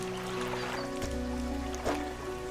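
A boat's haste engine in the Dredge fishing game hums with a steady low drone under lapping water, with a couple of soft knocks.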